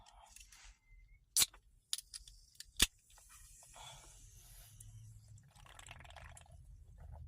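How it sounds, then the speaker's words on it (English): Can of Beyond Raw Lit energy drink cracked open: two sharp metallic snaps of the tab close up, followed by faint fizzing and liquid sounds. "So we're gonna crack into this and try it."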